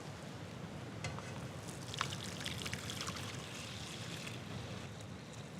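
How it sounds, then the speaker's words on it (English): Warm champagne jelly mixture pours into a bowl as a soft, continuous liquid rush with faint splashy detail. It is quiet and steady, with no talk. "We can pour it into our bowl."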